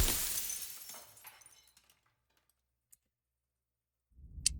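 A mirror smashes in the game Slay the Princess, a loud crash of breaking glass that decays over about two seconds into silence, then a few faint clicks.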